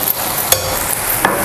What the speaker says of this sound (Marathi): आणि परत आपण सगळं आहे ना हे मिक्स करून घ्यायचं आपल्याला भाजीमध्ये.